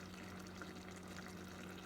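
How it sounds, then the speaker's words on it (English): Cold water running steadily from a tap into a kitchen sink around a pot of cooked onions, a faint continuous trickle and splash with a low hum underneath. "So we're going to put the pot in the sink along with some cold water to make it cool down a little faster."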